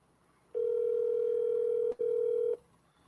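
A telephone ringback tone on an outgoing call, a steady electronic tone that sounds for about two seconds, breaks off very briefly, then resumes for about half a second before stopping. It is loud and clear, with no voices.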